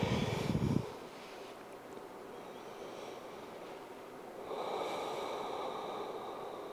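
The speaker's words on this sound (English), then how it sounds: "Let's breathe into the belly." Deep belly breathing in a yoga class: a strong, close exhale through the nose, a quiet pause, then a long, steady airy inhale, heard alone without talking.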